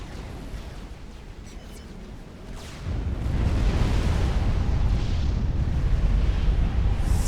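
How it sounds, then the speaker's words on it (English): Mavor experimental artillery fires in the strategy game Supreme Commander, a deep rumbling boom that swells midway and holds as a heavy low roar. "you'll get to see a Mavor fire"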